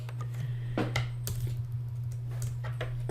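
Sparse, irregular clicks of computer keys being typed, close and moderately quiet, over a constant low electrical hum, with no talking.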